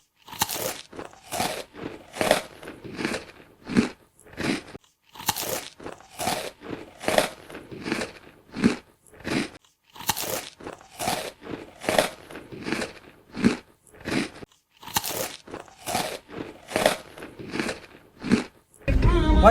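Baked chocolate being bitten and chewed close up, a long run of sharp, crisp crunches in an even chewing rhythm, loud and without talk.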